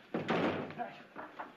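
A back door is opened and shut in an old comedy film, heard as a short, fairly loud thump and rattle followed by a couple of softer knocks, all within a second or so.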